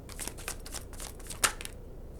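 Tarot cards are shuffled and drawn by hand, soft papery riffles and flicks with one crisp snap near the middle, quiet and close, fading to near silence.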